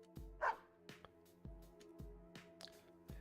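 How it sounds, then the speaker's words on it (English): A dog in the video game Persona 4 Arena makes a short, odd yelp-like bark over a quiet game background with faint regular thumps. "The dog made a strange noise."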